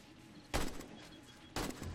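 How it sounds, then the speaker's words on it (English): Two sharp gunshots, about a second apart, in the zombie survival game 7 Days to Die, each a loud burst that trails off into a faint outdoor hiss. "Oh my god, that's some bad shooting."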